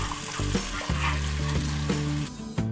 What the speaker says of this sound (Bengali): এবার আমি খুব ভালোভাবে টমেটোটাকে ফ্রাই করে নিচ্ছি।